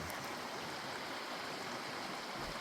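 A creek at a trout fishing spot runs in a steady, dense rushing wash, fairly faint and unbroken, with no voices.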